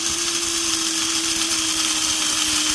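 An electric grinder grinds freshly ground coffee beans, a loud, steady motor whine with a constant pitch that runs unbroken throughout, close up and with no voices.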